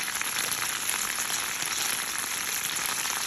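Conecuh sausages sizzle in a hot pan, a steady, dense crackle of frying fat running continuously at moderate level with no talking over it.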